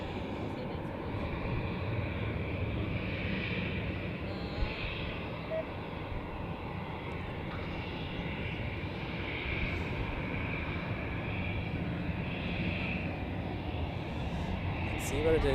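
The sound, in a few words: Luxair airliner at Zurich Airport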